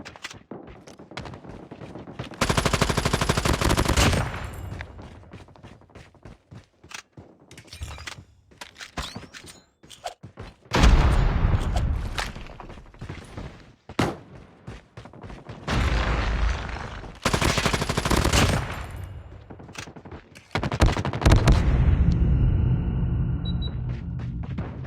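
Bursts of gunfire in the mobile shooter Call of Duty Mobile, loud and clipped, come in uneven volleys and single shots separated by quieter gaps.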